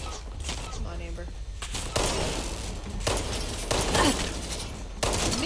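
Hunting rifle gunfire in the video game Fallout 76: loud, repeated shots in quick succession with busy game noise and clattering between the blasts.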